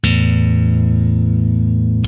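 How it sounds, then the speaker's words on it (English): An electric guitar rings out as a thumb slaps the low E string with the other strings left unmuted, giving a single loud, distorted, sustained chord that drones for about two seconds before cutting off abruptly. "otherwise you'll get this messy sound like this"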